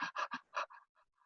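A yoga teacher imitates a dog's panting with her own breath, four quick loud huffs followed by three softer, fading breaths, close and alone.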